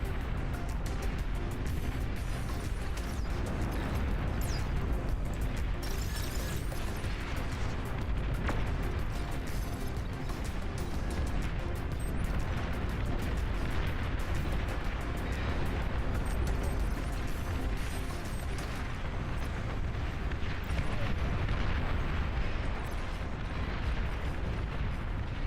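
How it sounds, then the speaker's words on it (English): Continuous rumbling barrage of rockets firing and exploding in a real-time strategy battle in Beyond All Reason, dense overlapping blasts and crackles at a steady loud level throughout. "What is this? Oh, rockets."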